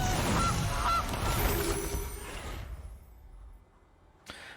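A goose honks repeatedly as a card is played in a Magic: The Gathering game, a loud cackling burst with music underneath that fades out, then one brief click near the end.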